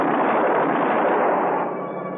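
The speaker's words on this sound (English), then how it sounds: "They turned to fire at Tinker up in the copter." Gunfire aimed at a helicopter in an old-time radio detective drama, a loud, dense, continuous burst with a muffled, narrow broadcast-like tone, fading slightly at the end.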